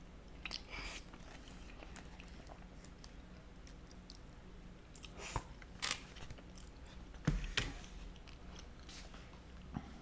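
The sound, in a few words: chewing food into the microphone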